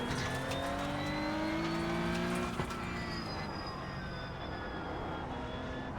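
Engine of a Porsche 911 Cup (992.2) race car in iRacing at the Nurburgring Combined circuit, a continuous high revving drone with rising and falling pitch through gear changes, steady and close, no talk.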